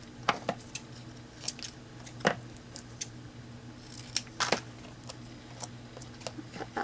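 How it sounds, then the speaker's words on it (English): Scissors snip paper again and again during a craft project, sharp close clicks coming in irregular bursts over a faint steady background hum. "Cut that one down a little bit."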